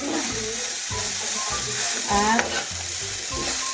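Kuryat frying in a pan while being stirred, a loud steady sizzle broken by repeated scraping strokes of the utensil at an even rhythm, with a short spoken word.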